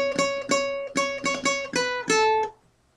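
Plucked open A string ukulele notes repeat in an even pattern, around seven clear picks, with the last one ringing out before fading to quiet.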